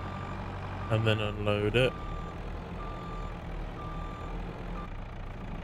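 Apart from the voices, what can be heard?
truck reversing a trailer, Farming Simulator 22 video game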